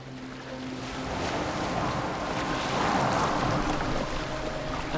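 A boat glides over open water in the video game Assassin's Creed Valhalla. Steady washing waves and wind hiss fill the scene as a continuous, moderately loud ambience with no speech.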